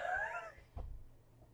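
A pet cat lets out one drawn-out, wavering meow, fairly faint and close by, followed by a soft thump and quiet room noise, with no one talking.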